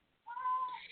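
A house cat gives one drawn-out, loud meow, rising and wavering, close by and with no one talking over it.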